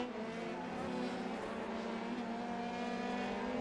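Race cars in an Indian eRacing Championship sim race hold a steady, layered engine drone, several motors buzzing together at constant pitch with a slight gear shift partway through.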